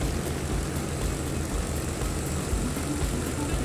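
Aircraft touching down and rolling along a runway in a flight simulator game, a steady engine drone at idle with a propeller hum that stays even and close throughout.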